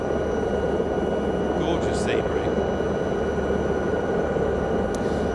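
SA315B helicopter in a flight simulator, flown over the West Coast Highlands: a steady, loud broadband engine and rotor drone that continues unbroken throughout, with someone talking over it.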